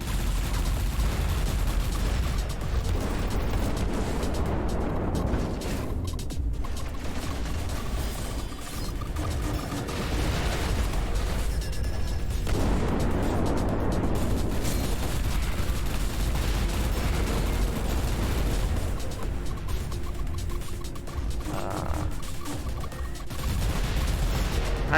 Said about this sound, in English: Venga, lanza bombitas.